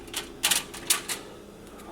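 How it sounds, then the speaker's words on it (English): Knife strokes slice a whole one-pound loaf of bread into 1-inch pieces, giving a few short, crisp sawing bursts spaced irregularly, close and fairly quiet with no talking. "take your bread, the whole loaf, 1 whole pound, and cut it into 1-inch increments"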